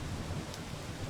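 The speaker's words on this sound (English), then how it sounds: "just as rain begins to spill from the clouds" Rain begins falling from the clouds as a steady, even hiss of drops, with a low rumbling undertone throughout and no voices.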